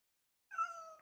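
A single cat meows once, a short, clear, tonal cry that starts after a brief silence and trails off, heard close and quiet indoors with no one talking.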